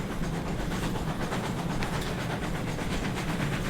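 Locomotive No. 7 'Armstrong' running on the Temsby Branch in the Train Sim video game, a steady, loud rolling rumble with faint rhythmic rail clatter throughout and no talking.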